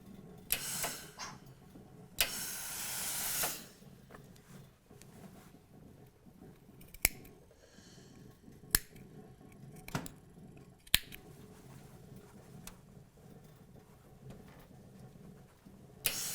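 Scissors cutting frayed fabric while sewing a vest: a few quick snips and a short rustling cut, then sharp isolated clicks spaced apart, close and quiet, with no talking.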